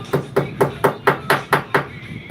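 A hammer flattening small metal nubs on a workpiece, nine sharp, evenly spaced blows about a quarter second apart, loud and close with short ringing decays.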